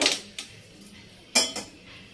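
A kadai wok is set on a kitchen stove: a few sharp metallic clanks and knocks, one near the start and a pair a second later, over a quiet room.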